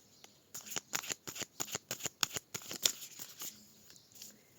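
Tarot cards being cut and shuffled by hand: a quick series of crisp riffling bursts, close and fairly soft, with a few brief pauses between them.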